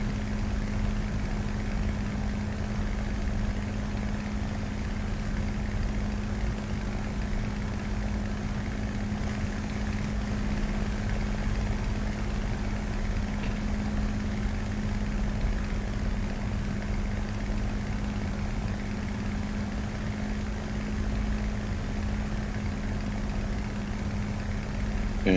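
A Hawker Hurricane Mk I propeller aircraft on approach, its engine a steady, even drone that holds at an unchanging level the whole way through, heard from inside or close by.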